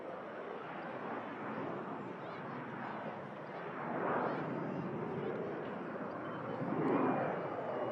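A passenger jet bound for Nice roars down the runway on its departure roll, a loud, steady broadband engine rumble that swells twice as it climbs away, heard from the ground at an airport.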